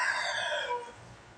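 A rooster crows, loud and bright, with a rising and sustained call that fades out after about a second, leaving quiet background hum.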